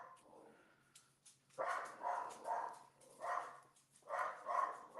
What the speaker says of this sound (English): Sorry, my dog. She takes her job of being a guard dog very seriously.